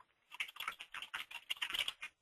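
Fingers type a short name on a computer keyboard, a quick uneven burst of light, close key clicks that stops after about two seconds, with no talk.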